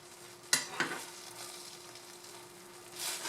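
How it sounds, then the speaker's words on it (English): Thickening gravy bubbles and sizzles steadily in a pan during burger cooking, with two sharp utensil knocks near the start and a low hum underneath. "I want it to come to a full boil so that I know that the gravy is going to cook evenly"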